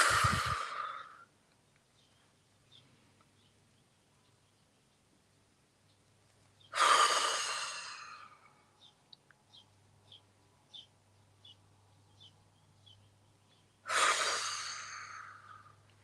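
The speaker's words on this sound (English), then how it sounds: "let's start by taking 3 deep breaths" Three deep, breathy sighs spaced several seconds apart, each a loud whoosh of air, with quiet pauses in between and faint ambient noise.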